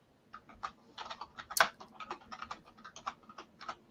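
Keys on a computer keyboard, each one individually miked, clack in a quick, irregular typing run, close and crisp, with one sharper louder strike partway through.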